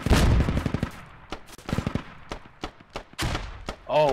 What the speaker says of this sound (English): The MTLB just putting fire in.